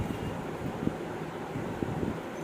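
Wind buffeting a microphone outdoors, a steady low rumbling roar with a few faint thumps, continuous and close, no speech.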